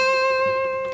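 An electric guitar sustains a single clear C note at the 8th fret of the high E string, loud and ringing with bright overtones and slowly decaying, with no audible muted rake before it.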